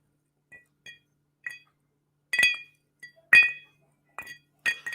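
Ice cubes clink against a glass of chocolate whisky in a quiet room: a series of sharp, bright taps, sparse at first, then louder, closer clinks in quick pairs, with no talk.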